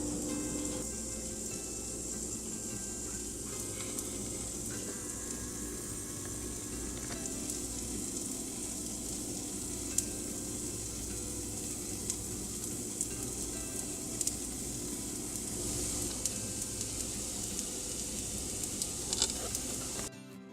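Lemon pancakes cook in a pan, giving a soft, steady sizzle that continues evenly throughout with occasional faint pops.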